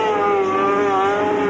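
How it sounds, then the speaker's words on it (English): A racing sidecar outfit powered by a 1200cc Suzuki engine at a German world cup race, screaming loudly and continuously at high revs, the pitch holding steady with a slight waver. "listen to the revs go."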